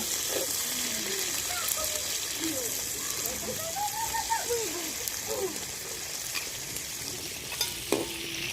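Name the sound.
tomatoes frying in a pan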